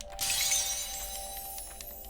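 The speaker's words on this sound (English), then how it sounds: "the death sound is very stained glass" A player character's death in the video game Gleamlight sets off a glassy shattering burst like breaking stained glass, then fades into faint tinkling fragments over a soft steady tone.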